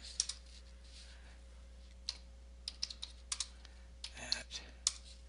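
Typing on a computer keyboard: scattered, sparse key clicks spread over several seconds, with a denser burst of keystrokes near the end, fairly close and moderately quiet over a steady low hum.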